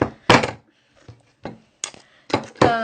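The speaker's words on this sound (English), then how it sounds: "this is my guillotine. It's a chopper for chopping off when your cane piece is longer than it needs to be." An oboe reed cane guillotine chopper trims a piece of cane, giving several sharp, close clicks and thunks spaced irregularly, with short metallic clacks and near silence between them.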